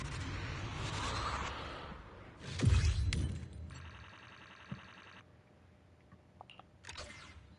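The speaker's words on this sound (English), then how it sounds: "Snap the shutter!" Camera shutter snap in the video game Zenless Zone Zero: a whooshing swipe, then a crisp mechanical click and a short buzzing effect, followed by faint scattered ticks in a quiet game scene.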